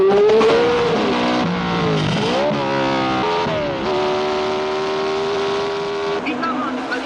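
A red Ferrari Formula racing car of 1966 at the Monte Carlo Grand Prix howls loudly past, its engine pitch rising and falling through gear changes as it races, with a commentator talking over it.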